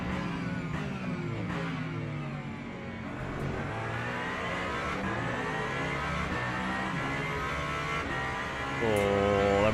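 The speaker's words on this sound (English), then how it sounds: "Oh, that Mustang sounds good." Ford Mustang race car engine in Le Mans Ultimate, a steady loud drone with shifting harmonic pitch as it revs and pulls along the Le Mans circuit, rising slightly at the end.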